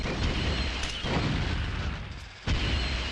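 Gunfire in a 2002 PS1 video game, dense booming bursts that run almost continuously, with sharp breaks and fresh blasts, loud and close without talking.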